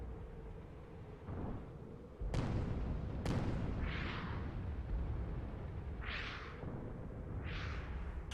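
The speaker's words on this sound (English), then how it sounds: "Many shots going out right now." Gunshots and artillery fire in a video game skirmish: sharp, heavy blasts ring out several times over a constant rumbling bed, with whooshing bursts trailing between them, fairly loud and without voices.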